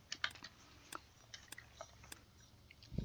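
Soft clicks of computer keyboard keys pressed for a keybind in Microsoft Flight Simulator, a sparse irregular run of light taps, close and quiet, with no talking.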